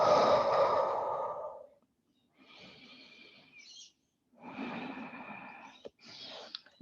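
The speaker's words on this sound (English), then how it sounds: "taking another deep breath in and breathing out through the mouth" A deep, breathy exhale pushed out through the mouth during a calm yoga session, loud and close at first and then trailing off, followed by softer, airy breathing sounds.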